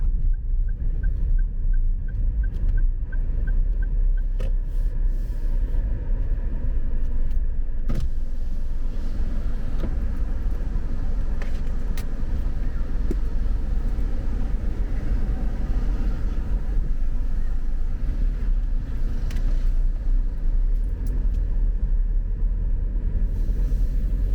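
A car cruising through Penang streets while hunting for parking, a steady loud interior engine and road rumble with occasional faint clicks and ticks, continuous throughout.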